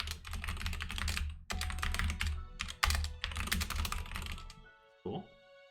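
Rapid clattering keystrokes on a computer keyboard come in dense, fast bursts broken by brief pauses. The typing ends with a short final thud.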